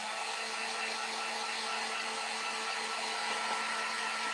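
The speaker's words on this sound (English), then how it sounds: "Okay, I'm gonna heat set this. I'm gonna dry this." A heat gun or dryer runs at a steady whir to heat-set ink on a nativity home decor craft, making a constant airy blowing hiss with a faint motor hum that stays even throughout, with no talk.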